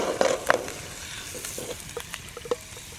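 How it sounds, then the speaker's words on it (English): A ham steak being seared in a pan over a campfire, with a steady close sizzle and frying hiss broken by scattered scraping and clicking sounds of the cooking utensils. "Oh, wow, look at the sear on that little ham steak"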